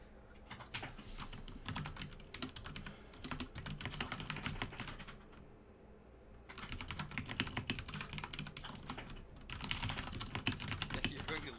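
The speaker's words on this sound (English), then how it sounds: "I'm typing." Rapid typing on a computer keyboard during a World of Warcraft raid, dense clattering key bursts in several runs separated by short pauses, close and fairly quiet.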